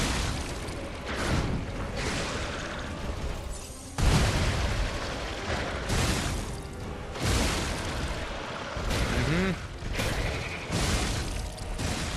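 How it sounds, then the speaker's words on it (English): Exploding minions burst in Lies of P combat, a rapid series of loud booms and bursts over dense game noise, with several sharp onsets spaced a second or two apart. "And the exploding minions aren't helping."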